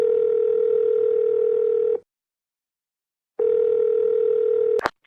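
A ringback tone while calling a guest, two long steady buzzing tones separated by a pause, loud and close, ending with a sharp click as the line connects.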